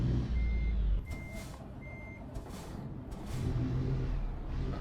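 Truck in American Truck Simulator, a low engine rumble with several short reversing beeps and a few brief hissing bursts, moderately close and without talk.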